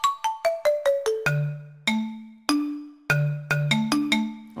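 Plucked notes from a synthesized bass pizzicato instrument sample for Zelda game music, a quick run of bright, sharply decaying tones with clear pitches that step downward, then two longer held notes and another fast burst, clean and unaccompanied.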